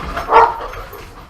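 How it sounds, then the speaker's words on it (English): A single dog bark, short and fairly close, with a low room rumble and no talk. "My dogs are freaking out."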